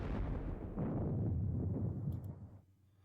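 Distant artillery fire from 3-inch ordnance rifles in a Battle of Gettysburg strategy game, a heavy continuous rumbling barrage that holds steady, then fades out toward the end.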